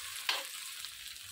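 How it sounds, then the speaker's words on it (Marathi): Vertically sliced onion sautés in a pan for fried rice, a steady close sizzle and hiss with one brief louder stir or scrape near the start, no voices. "एक चिरलेला कांदा घेतलेला आहे, उभा स्लाइस करून घेतलेला आहे, तो थोडासा परतून घ्यायचा आहे आपल्याला"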